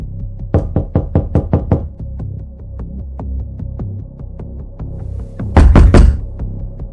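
Someone knocks on a door in a rapid burst of about six sharp raps, then a pause over a low hum, then a couple of heavier thuds near the end, close and loud.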